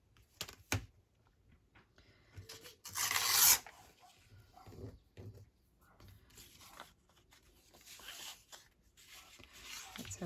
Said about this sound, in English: I just need to tear it down a teeny tiny bit